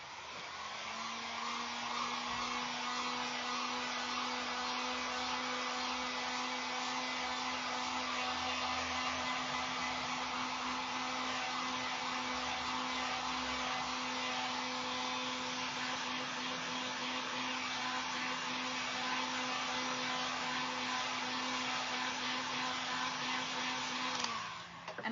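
A hair dryer blows steadily and loudly on a jack-o'-lantern made from an Amazon cardboard mailer, a constant whirring drone with a fixed hum that runs unbroken for about 24 seconds before cutting off.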